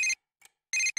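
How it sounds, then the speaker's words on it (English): A cell phone ringtone plays in the Persona 4 Golden video game, bright electronic tones repeating in short bursts with brief gaps, loud and clean with no talking. "Cell phone is ringing."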